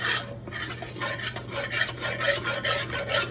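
Flour being stirred into hot oil in a pan for homemade Salisbury steak gravy, a steady scraping, swishing stir with rhythmic strokes over a faint sizzle, close and moderately loud, with no talking.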